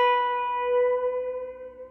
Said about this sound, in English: Bend with your ring finger, 12th fret B string.